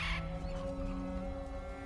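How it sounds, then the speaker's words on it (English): A single harsh, crow-like caw from a bird in God of War Ragnarok, near the walls of Asgard, sounds briefly at the start over a steady low ambient drone. "Bird."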